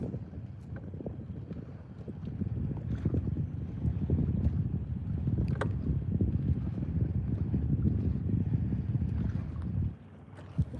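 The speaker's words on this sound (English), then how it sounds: "We're gonna crank this 250 horsepower motor up and roll on." A 250 horsepower outboard boat motor runs with a loud, steady low rumble mixed with wind buffeting on open water, then drops away near the end.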